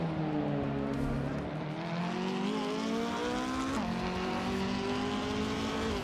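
Racing engines, including a 1997 McLaren F1 GTR Longtail, whine continuously at high revs, pitch sliding up and down with gear changes and a brief dip near the middle, loud and sustained with no talk.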